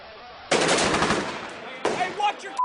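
Bursts of automatic gunfire from Marines in Iraq, a sustained loud rattling volley followed by a second shorter burst after a brief pause, close and harsh.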